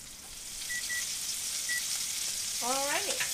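Salisbury steak patties fry in a pan with a constant, close sizzle and crackle that holds steady throughout, while a few brief beeps come in and a short vocal sound appears near the end.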